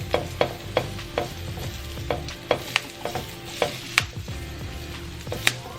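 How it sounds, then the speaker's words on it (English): Rosemary and thyme fry in hot oil in a pan for lamb chops, with a steady close sizzle and repeated sharp scraping clicks as the herbs are stirred around. "I'm just gonna twirl this rosemary and this thyme around in the pan"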